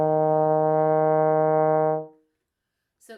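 Trombone sustains a single E flat in third position, a steady, rich held tone lasting about two seconds before cutting off into silence, followed by a brief faint noise.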